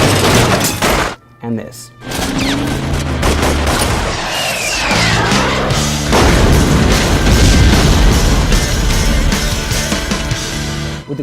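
Gunfire and explosions from the action film Desperado: dense bursts of shots, booms and shattering over a driving music score, loud and continuous, with a brief voice at the start.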